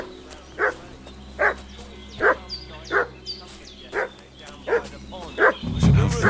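A dog barking in Kingdom Come Deliverance 2, a steady series of about eight sharp woofs roughly evenly spaced, moderately near, over a quiet ambient background with faint bird calls.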